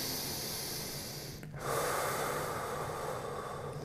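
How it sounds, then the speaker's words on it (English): A deep breath drawn in through the nose during a yoga handstand exercise: one sharp, close inhale cuts in midway through, with soft breathy noise before and after it. "Big breath in."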